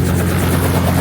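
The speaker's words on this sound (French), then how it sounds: "j'ai fait de l'hélico" Helicopter rotor and turbine roaring loud and steady at close range throughout, a dense continuous drone with a low thumping pulse and no voices.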